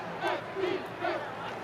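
A crowd sound-effect track for a football game scene rises in three cheering, shouting swells over a steady murmur, moderately loud and without anyone speaking over it.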